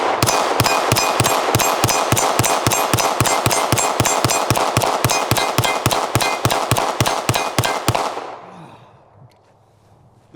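A Glock V pistol empties a full magazine in a fast, evenly spaced string of sharp, loud shots, about thirty in eight seconds, ending abruptly with a faint echoing tail and rustle.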